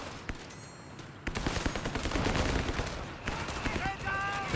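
Machine gun bursts and scattered gunfire in a Company of Heroes 3 2v2 match, rapid cracks building into a dense rattling stretch, with other battle noise mixed in.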